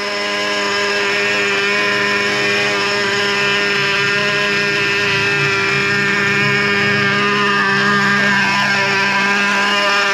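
A Traxxas Revo 3.3 nitro RC truck engine idles steadily with a continuous buzzing, harmonic-rich drone, close and loud throughout, with no talking.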